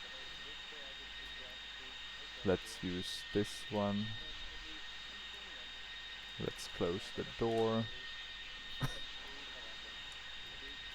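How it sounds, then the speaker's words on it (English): Auxiliary power unit of a Dassault Mercure 100 airliner running in a Prepar3D flight simulator, a steady whine and hum holding throughout with two short bursts of talk over it. "we have the APU running"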